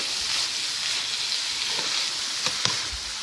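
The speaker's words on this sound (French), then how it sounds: "En les faisant revenir aussi dans l'huile et la viande" Carrots and corn fry in oil with minced meat, giving a steady, close sizzle with a few faint clinks of stirring near the end.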